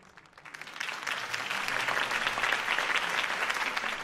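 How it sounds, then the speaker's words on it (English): Crowd applause at a political campaign rally in the Batman Telltale Series video game, rising quickly from quiet and holding as steady, dense clapping throughout. "If only Mr. Wayne, my campaign's largest backer, could have heard that applause"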